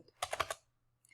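Keys pressed on a computer keyboard in quick succession, four or five close, crisp clicks bunched together, then silence and a faint final tap.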